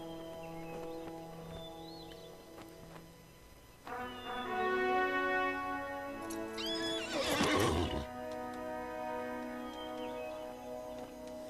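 Mounted horse in the Lord of the Rings Online game lets out a loud, drawn-out whinny midway over a backdrop of steady tonal music, with faint hoofbeats and no talking.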